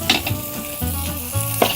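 Garlic and onion sauté in a little oil over a wood fire, a steady close sizzle with scraping stirs and occasional clinks of a utensil against the pan.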